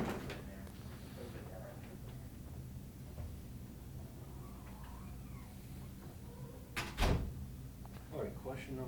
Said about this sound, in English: Let me shut the door